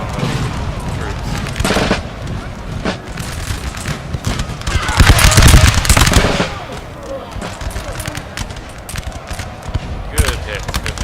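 Artillery fire in Napoleon: Total War during a 4v4 battle of France against Russia, Austria, England and Prussia: loud repeated booms and crackling volleys, heaviest near the middle, with scattered gunfire and a voice talking over the battle.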